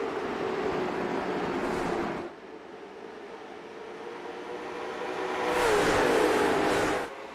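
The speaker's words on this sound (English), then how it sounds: "We are green flag racing for the Islander in 125" Late model stock cars roar together at a green flag start of the Islander Inn 125 race, a loud dense engine wash that dips briefly, then swells again as the pack passes close by.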